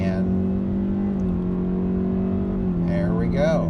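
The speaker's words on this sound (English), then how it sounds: "We have a nice sporty sound coming out of the engine" The engine of a 2025 Kia K4 EX sedan under full throttle merging onto a highway, a steady loud rising drone heard from inside the cabin, with a voice briefly speaking near the end.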